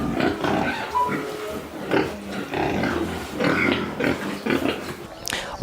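Pigs on a pig farm in Kericho, grunting and oinking in a steady series of close, overlapping snorts with busy farm background noise.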